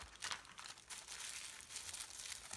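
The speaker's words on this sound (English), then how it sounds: "you're going to add your piece of tissue paper and you're going to crumple it up and press it in so that it fits in that area" A sheet of tissue paper being crumpled and pressed into shape for a textured mixed media tree trunk, giving close, soft crinkling bursts that come in irregular waves for a few seconds with no talking.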